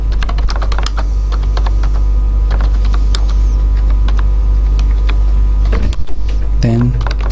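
Steady typing on a computer keyboard, rapid irregular key clicks running throughout at close range, with a low constant hum underneath and a brief voice near the end.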